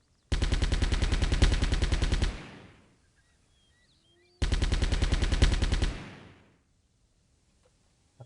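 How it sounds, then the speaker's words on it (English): Two long bursts of rapid automatic gunfire in the video game Delta Force 2, each about two seconds of loud, evenly spaced shots with a short fading tail, separated by a quiet pause. "I think there's a shooter in that tower. I think that's his gun clipping through the wall."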